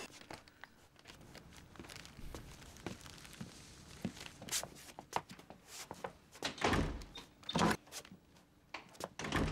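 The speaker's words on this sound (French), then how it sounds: "Le bruit de porte me régale." Door noises from a TV show, a series of knocks, thunks and slams of varying loudness scattered through a quiet room, with footsteps and shuffling between them.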